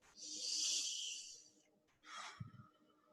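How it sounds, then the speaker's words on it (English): A person takes a deep breath in through the nose, then releases it out through the mouth, with a long airy inhale followed by a shorter, softer exhale and a faint snort, close and quiet. "It's really a nice stress management tool to just take a deep breath"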